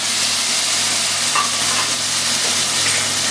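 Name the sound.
peeled tomatoes added and stirred in a sizzling pan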